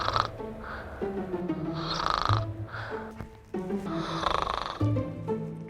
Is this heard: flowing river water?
no